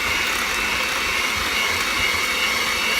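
An electric hand mixer whirs steadily as it beats two egg whites with four tablespoons of granulated sugar, a constant close motor drone with no pauses.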